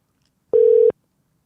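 A telephone call placed and ringing out gives a single short, steady electronic tone lasting under half a second, clear and isolated against silence.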